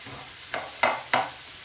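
Garlic, carrots, baby courgettes and mushrooms cooking in a pan, with three short scraping stirs over a faint, quiet sizzle, close by.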